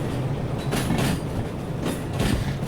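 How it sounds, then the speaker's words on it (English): A heavy train in the railway simulation game Derail Valley rolls in toward waiting wagons, a continuous rumbling clatter of wheels on track with rhythmic surges of clacking, loud and near. "just pulling in now, and we'll be coupling up to these wagons"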